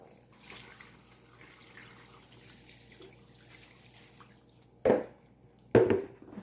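Liquid is poured over mustard greens in a container for pickling, giving two short splashing gushes near the end after quiet handling noises, close by with no talk.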